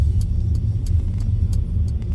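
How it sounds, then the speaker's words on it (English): Rental car driving through Manchester/Salford, a close low engine and road rumble with periodic thumps as the tyres roll over the surface, steady throughout. "Obviously I'm in a rental car"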